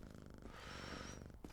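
A cat purrs in the video game Quarantine Zone: The Last Check, a steady close rumbling loop that runs through the short moment with no talk over it.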